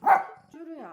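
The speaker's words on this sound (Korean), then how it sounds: "쭈루야 짖지 말고" Pet dog Jjuru lets out one close, sharp bark followed by a short whiny vocal, loud and alone indoors.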